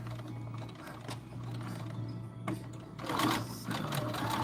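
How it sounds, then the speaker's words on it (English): A sewing machine stitches backward and forward on a small fortune cookie coin purse, its motor buzzing steadily with rapid needle clatter and a brief louder burst near the end, close and clear with no talk. "I'm just gonna back stitch a little bit"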